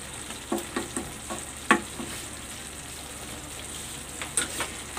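Yellowfin tuna adobo in coconut milk with bird's-eye and long green chilies sizzles steadily in oil in a pan. Occasional light clicks of a stirring utensil sound over the continuous close hiss.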